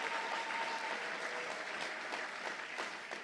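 A church congregation applauds steadily, many hands clapping in a dense, continuous patter that stays at an even level, with a faint voice briefly audible underneath.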